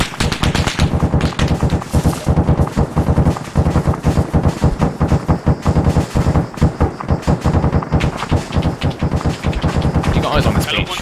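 Rapid bursts of machine-gun fire and heavier gunfire crackle loudly and almost continuously in an ArmA 3 battle, with voices talking over the shooting.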